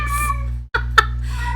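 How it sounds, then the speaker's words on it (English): A pet cat named Dexter lets out a couple of short meows close to the microphone, over a steady electrical hum in a quiet indoor room. "my cat Dexter says hi"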